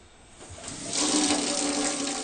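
Water runs steadily from a household tap, starting softer and swelling into a full, continuous gush that carries on alone without pause.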